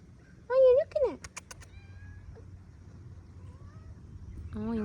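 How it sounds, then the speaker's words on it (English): An outdoor cat gives two short rising meows close by in summer, followed by a few sharp clicks and quiet background rustle, with a voice briefly speaking toward the end. "My cats are outdoor cats here in the summer."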